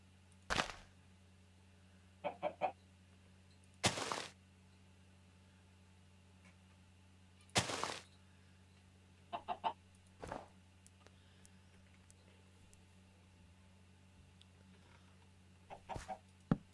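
Clucking from a chicken in a video game, coming in sparse, irregular bursts and quick double or triple clucks spread over a quiet hum, fairly faint and without talk.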